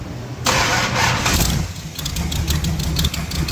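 A Plymouth Duster engine cranks briefly and then catches, settling into a loud, steady rumbling idle up close, with no talking over it.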